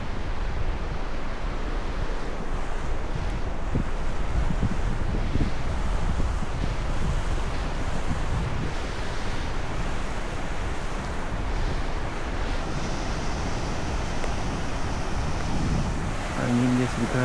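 Steady wind by the sea at a fishing bridge at Tanjung Sepat, Sepang, a constant loud buffeting rush over the microphone with surf beneath, and faint voices late on.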